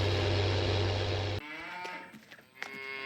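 Cattle moo on a farm in the Farming Simulator 19 video game, a low drawn-out moo under a steady hum that cuts off, followed by quieter farm-yard sounds and faint knocks, with no talking.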